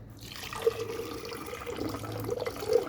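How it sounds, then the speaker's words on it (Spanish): Water poured into a laboratory measuring vessel set on a flat surface, a soft steady trickle with a few gentle splashes and drips, close and quiet, with no voices. "Vamos a empezar a adicionar agua."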